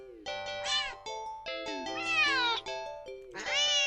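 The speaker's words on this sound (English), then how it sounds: "the cat meows sharply at you" A cat meows sharply and insistently, several loud, drawn-out yowls close by with brief gaps between them, rising and bending in pitch like an agitated caterwaul.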